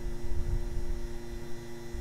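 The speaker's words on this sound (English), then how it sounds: "Start the vacuum pump." An A/C vacuum pump runs on a 2008 Audi Q7, a steady, even mechanical hum with a low rumble, continuous and unchanging.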